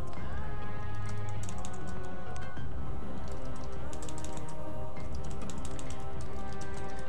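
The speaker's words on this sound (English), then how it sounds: "As I'm busy typing this out" Computer keyboard keys clatter in quick irregular bursts of typing, close and fairly steady, over a constant low background hum of game audio and music.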